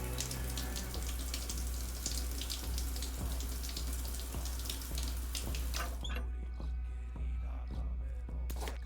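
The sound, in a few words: shower running in video game Stationeers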